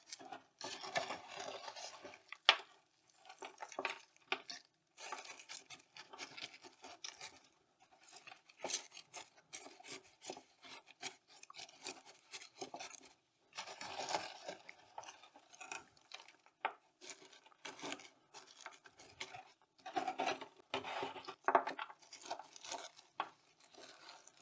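Chunky coconut potting mix is pressed firmly by finger into an orchid pot, producing intermittent close, soft scratchy rasping and rubbing bursts separated by quiet pauses.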